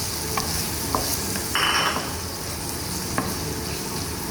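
Tomatoes tipped into hot oil with golden-browned okra for an Indian bhindi masala, giving a steady sizzle with a brief louder crackling burst as they hit the pan, plus light stirring clatter throughout.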